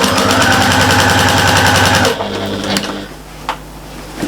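A sewing machine runs fast and steady, stitching a quarter-inch seam around a large shopper bag. The motor whirs loudly for about two seconds, then stops, leaving faint handling noises and a small click.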